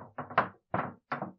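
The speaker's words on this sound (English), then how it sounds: "at midnight there was finally a knocking on the shutters" Knocking on wooden window shutters at night: three short, hollow knocks in a quick group, a pause, then two more single raps, close and distinct in an otherwise silent space.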